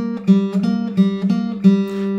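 Acoustic guitar plays a single note on the 3rd string fretted at the 3rd fret, plucked about five times in an uneven fingerstyle rhythm, close and clear with ringing sustain between picks, no talking.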